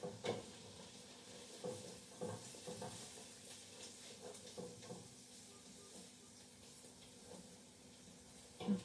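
Vegetables fry in a pan during an Italian cooking class, giving a steady low sizzle and hiss with scattered stirring clinks, fairly quiet and with no talking.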